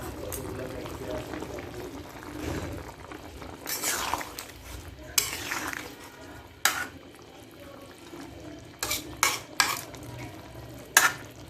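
Poli fish pieces go one by one into hot oil in a pan for a drumstick curry, making a steady soft sizzle with sharp clatters of utensil against pan, while someone talks over it.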